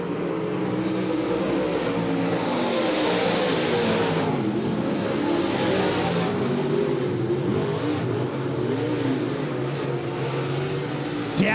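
Late model race cars thunder around Monett Motor Speedway, a loud continuous roar of engines with rising and falling revs as cars pass and swell through the corners, sustained across the whole stretch with little else audible.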